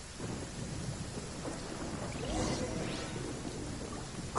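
A thunderstorm in the video game Genshin Impact brings steady heavy rain hissing across the scene, with low thunder rumbling and swelling near the middle, loud and continuous, with no talking.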